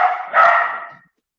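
A dog barks twice in quick succession at a ranch, the second bark louder and drawn out into a fading yowl, fairly close and alone without talk.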